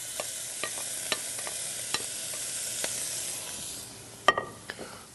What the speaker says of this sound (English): Now to that, we're going to reintroduce our Italian sausage that's already pre-cooked. And we're just going to add it right to the pan.